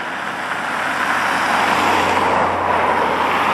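Steady, busy road traffic on the E6 beside a track with a gravel walkway, a continuous broadband roar of passing cars and trucks with a low engine hum, fairly close and constant throughout, no talking.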